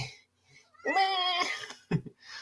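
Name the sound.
irritated cat meowing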